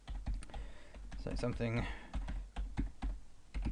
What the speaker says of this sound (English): We can just click here and start typing.